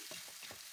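Steady hiss of soybean sprouts frying in a pan as they are stirred, with three soft scraping strokes under the sizzle.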